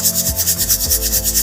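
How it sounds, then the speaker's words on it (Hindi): An electric grinder whirs steadily at close range, milling coarse panjiri ingredients in a kitchen, with a rough, rubbing hum that pulses faintly throughout. "जो मोटी रह गई है इसको दोबारा से ग्राइंड कर लेते हैं।"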